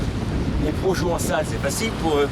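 Wind sweeps across a beach and buffets the microphone in a continuous rushing roar, with a voice speaking over it.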